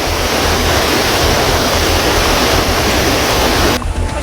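Strong flood current from the burst levee of the Tuntang River, a loud, dense rushing roar of water that fills the whole clip without pause and with no voices.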